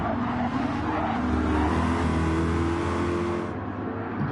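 Simulated GT race cars, a swift Corvette chasing an Aston Martin in a sim racing game, roar loudly and steadily with layered engine drones and shifting revs, several cars close together throughout.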